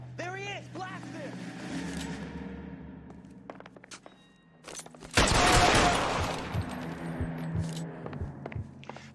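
A sudden burst of rapid gunfire in an L.A. Noire shootout erupts loudly mid-scene, following tense shouting and scattered thuds, with voices continuing over the echoing shots.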